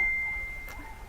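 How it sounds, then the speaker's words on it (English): A mobile phone notification going off during a makeup session, a thin steady electronic tone that holds briefly at moderate level, then fades, leaving quiet room sound. "Sorry, phone going off."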